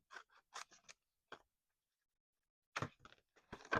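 Small scissors snip around a stamped paper image for a wedding journal page, quick close clusters of crisp cuts with a long quiet pause between bursts, no talking.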